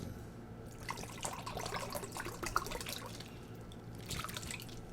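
A measured cup of water being poured into an Instant Pot, with soft dripping and trickling sounds against quiet kitchen background noise, brief splashy bursts near the start and end.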